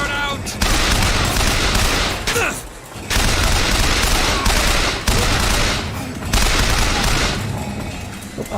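Sustained bursts of gunfire from Bioshock Infinite, loud and dense, in three long volleys broken by short pauses.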